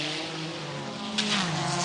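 A Courage Le Mans prototype race car driven at Le Mans in 1994, its engine note droning and shifting in pitch as it passes, with a sharp rise partway through, under steady background noise.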